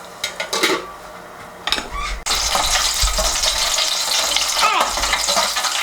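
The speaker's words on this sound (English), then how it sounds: "we are going to deep fry the raw meat that we have to ensure that the meat is really cooked" Spicy pork spring rolls (lumpia shanghai) with raw meat filling deep frying in hot oil, a steady loud crackling sizzle filling most of the clip after a few clinks of pans and utensils, with a brief spoken word at the start.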